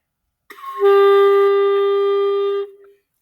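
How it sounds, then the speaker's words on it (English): A single clarinet note A is held steady for about two seconds, clear and close, then fades out. "Our clarinets are going to be learning the note A,"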